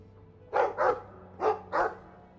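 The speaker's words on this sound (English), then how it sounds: "What's up with the dog?" A dog in the video game Dragon Age 2 gives four distinct barks in two quick pairs, clear and close against a faint low background hum.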